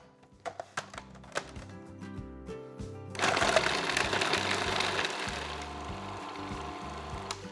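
Food processor working a granola bar mixture, first a few sharp knocks and pulses, then a steady loud whirring blend as the mixture turns over and gathers into a ball, with no talking.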